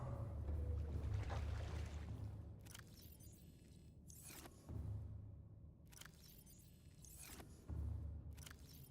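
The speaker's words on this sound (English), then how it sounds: "Engine powering down." A spaceship engine powering down in the Subnautica video game: low rumbling hums that swell and drop in repeated pulses, broken by sharp metallic clanks and hissing bursts, with no talk.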